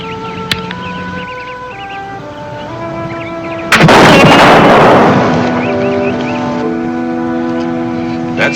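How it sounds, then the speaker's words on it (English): A single loud rifle shot in a frontier western scene, a sharp blast followed by a long fading rumble, set against a steady orchestral music bed. "That's fine shooting, Red Sky."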